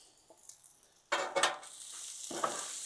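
Rice and hamburger sizzling on a Blackstone griddle: a quiet scrape, then a sudden loud hiss and crackle as food hits the hot surface, settling into a steady sizzle with a spatula clink near the end.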